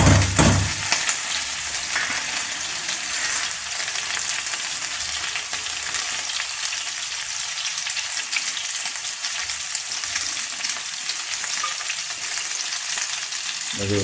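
Ghee and butter sizzling in a hot pan, a loud, steady, close frying hiss with a faint stirring scrape running throughout.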